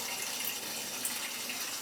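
Water rushes steadily through the returns of a Weil-McLain direct vent gas boiler being back flushed, a constant hissing flow with no breaks or voices.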